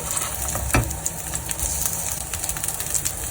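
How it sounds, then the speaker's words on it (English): Soft hara bhara kebabs fry in hot ghee in a pan, giving a steady close sizzle and bubbling crackle throughout with a brief knock of the spatula, and no talking. "Very gently put the kebabs in the hot ghee"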